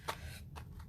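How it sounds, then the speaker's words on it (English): A plastic stencil mask peeled off paper in a few quick crackly tugs, short papery rips close and quiet, no voices. "So now I'm gonna try to peel this up."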